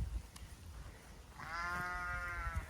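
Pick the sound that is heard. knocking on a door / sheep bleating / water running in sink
sheep bleating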